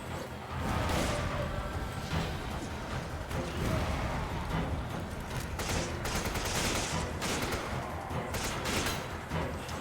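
Magnum gunshots ring out in rapid, dense bursts over nearly ten seconds, loud and continuous with sharp broadband cracks piling up like sustained gunfire.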